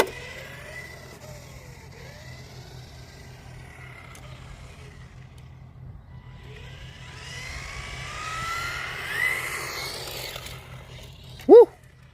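Traffic passes on a usually quiet road: a faint background hum swells as a vehicle approaches and roars past in a loud, brief sweep, with a sharp tonal sound near the end.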